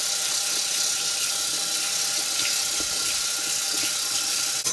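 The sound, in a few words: tap water running into a bathroom sink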